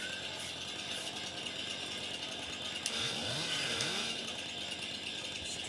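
A chainsaw drones steadily in the Farming Simulator 22 game, a constant buzzing, rattling engine note held at even loudness throughout with no talk.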